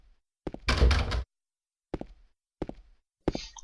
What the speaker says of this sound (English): Just checking the doors to be thorough.